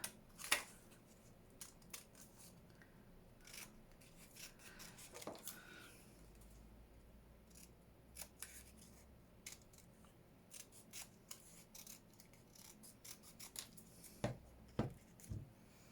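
Scissors snip through paper while cutting out ephemera pieces for a handmade notebook, giving close, soft, irregular crisp cuts scattered throughout, with a couple of sharper snips near the start and end.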